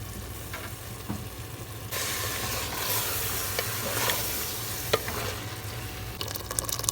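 Chicken being stirred and fried in a pressure cooker pot for chicken madhghout, with a steady close sizzle and hiss and occasional scraping stirs, growing louder after a couple of seconds, with no talking.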